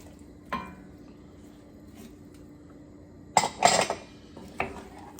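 Brisket being returned into a pot and stirred, a metallic clink followed by a cluster of scraping, clattering utensil-on-pot sounds and a final knock, close and moderately loud.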